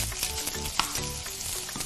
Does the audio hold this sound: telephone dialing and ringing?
no